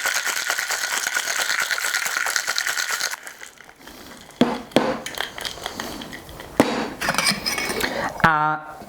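Cocktail shaker with apple juice and Scotch shaken hard, a dense rattling clatter of ice and liquid for a few seconds, then scattered knocks and clinks, close up with a voice briefly present.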